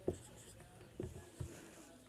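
Chalk tapping and scraping on a classroom blackboard as a teacher writes a weekday name, three short faint knocks spaced across two seconds, quiet room with no voice over them.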